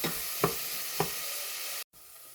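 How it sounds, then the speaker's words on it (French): Yellow bell pepper frying in butter in a pan over moderate heat, a steady soft sizzle with a couple of brief stir clicks, cutting out abruptly near the end. "On fait cuire ça dans le beurre jusqu'à ce que ça ramollisse un peu"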